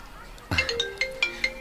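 A cellphone ringtone plays as a short series of bright, regularly spaced melodic beeps after a soft lead-in, close and moderately loud.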